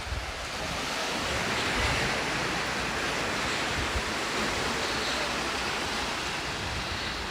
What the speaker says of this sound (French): Voilà, là, il y a l'eau de la montagne qui arrive.